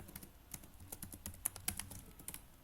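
Rapid, uneven clicking of keys on a computer keyboard as code is typed, close and fairly quiet, with no talking.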